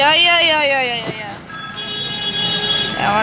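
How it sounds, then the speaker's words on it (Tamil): A telephone rings inside a video game, a steady electronic ringtone holding on after a voice talks over the start, loud and close. "ரூம் நம்பர் 1 எனக்கு கால் அடிக்குது."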